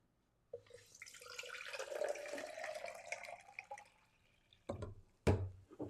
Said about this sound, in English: we're going to take some coconut water, and I'm going to put it in here